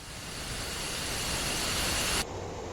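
An F-15E jet in a flight-simulator game comes in to land with its landing gear lowering, heard as a loud, steady broadband engine roar that holds for about two seconds before dropping off sharply to a quieter rush.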